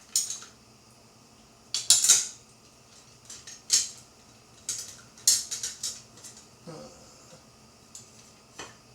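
Metal cutlery clinks and clatters in a drawer as someone rummages for a spoon in a home kitchen, producing irregular bursts of bright jingling with quiet pauses between them.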